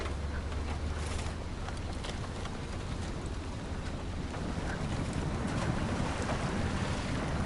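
A boat in a video game running flat out in high gear, with a steady broadband engine roar mixed with water and wind rush, constant and fairly loud throughout.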